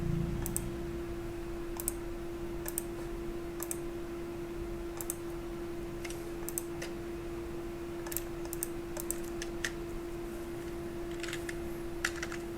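Quiet computer keyboard typing with scattered light key clicks in short irregular bursts over a steady electrical hum and background hiss, no voice.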